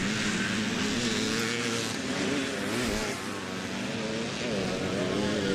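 Classic motocross bikes race past at a hilltop track, among them a Belgian rider on a CZ 250. A continuous, dense engine roar drones on at moderate distance without breaks.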